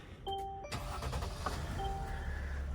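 A Tiffin motorhome's engine cranks over and fires up, settling into a steady, close idle with a faint whine; no one speaks.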